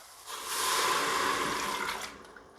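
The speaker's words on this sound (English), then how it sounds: "I'm going to throw in the rest of this broth" Broth is poured into an electric pressure cooker in a single smooth splashing stream. It swells quickly, holds for about two seconds, then tapers off and is followed by a few faint drips.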